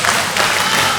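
A wrestling crowd at an APAC Wrestling show applauds in a short, steady wash of clapping and cheering, with a commentator's voice faintly underneath.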